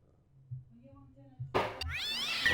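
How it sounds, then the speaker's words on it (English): A cat in the video game Broken Sword bursts out of a rubbish bin with a loud yowling screech after a quiet voiced sound, ending in a rising, wavering caterwaul. "Oh, there was just a cat in the bin."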